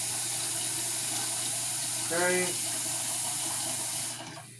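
Tap water runs steadily into a cooking pot being filled to boil noodles, a continuous close rushing hiss that cuts off near the end, with a brief spoken word partway through.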